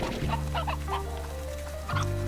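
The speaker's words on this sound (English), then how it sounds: "I want to grab some chickens before I go, just in case we need it." Chickens cluck in the Slime Rancher video game, a run of short, close clucks over a steady low hum, with a clear shift in the background tone near the end.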